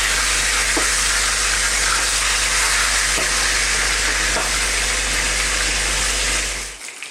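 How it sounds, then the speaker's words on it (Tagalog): Milkfish (bangus) fries in hot oil over a raised flame, a loud continuous sizzle and hiss with scattered pops of spattering oil and a low steady hum beneath, fading slightly near the end. "Tsaka na ako lalayo dahil sigurado titilamsik po yung mantika."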